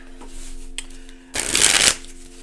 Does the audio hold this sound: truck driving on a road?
no